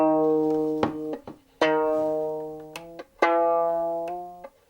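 Violin notes sound in a repeated pattern of bowed or plucked tones, close and clear with short gaps between them, while a string is tuned up from D sharp to G.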